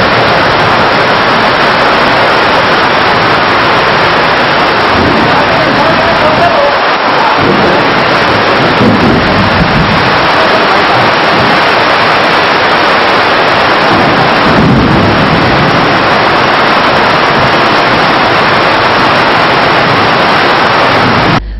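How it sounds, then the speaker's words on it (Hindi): Torrential rain driven by strong wind, a loud, roaring wash of noise that holds steady throughout, with low thunder-like rumbles swelling at intervals. "तेज हवा भी चली और उसके बाद करीब 15 मिनट तक मूसलाधार बारिश हुई।"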